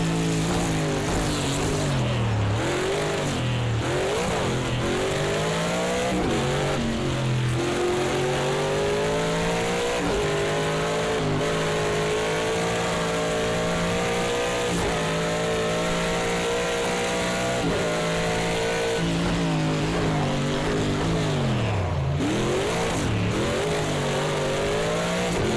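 Race car engines in the Midnight Club racing video game wail continuously, their pitch sweeping up and down through gear changes and revs, loud and steady throughout.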